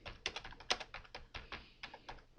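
Fingers typing on a computer keyboard: a steady run of quick, crisp key taps, about a dozen close strokes with uneven spacing, heard up close with no voices.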